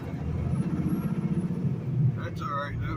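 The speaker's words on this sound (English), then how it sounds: "there's a lot of traffic coming" Road traffic heard from inside a moving truck cab: a throbbing engine rumble with passing vehicle noise, and a voice talking near the end.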